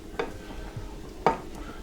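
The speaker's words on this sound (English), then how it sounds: "we're going to scramble these eggs and just turn the rice" Eggs scrambled in a pan next to cooking rice, with a couple of sharp scrapes and taps of a utensil against the pan over a faint background, no voices.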